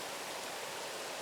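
A waterfall at Sangwonam hermitage on Myohyangsan pours down in a constant, even hiss of falling water, heard alone and fairly faint.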